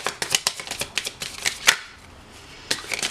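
Tarot cards being shuffled by hand in a steady run of crisp riffling flicks, close and clear, pausing briefly before the flicking resumes; no voices.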